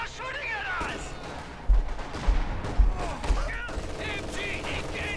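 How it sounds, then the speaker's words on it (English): Gunfire crackles in a Company of Heroes 2 World War II battle, with repeated heavy bursts and thuds of shots and explosions mixed with voices, radio chatter and game effects throughout. "The bastards are shooting at us."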